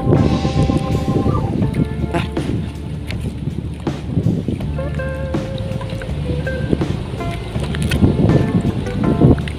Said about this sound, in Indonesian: Angin istimewa.